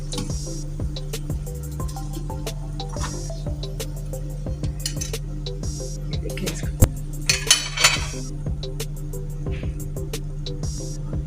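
Crispy golden-brown potato and chicken cutlets lifted from the pan onto a plate, with scattered light clinks and taps of utensil against dishware over a steady low kitchen hum.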